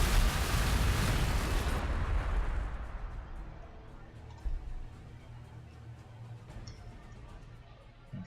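Ork city in Warhammer 40,000: Gladius opens fire on an enemy unit, a loud booming artillery-like blast that rolls away into a long fading rumble, followed by a faint thud and quiet ambient game noise.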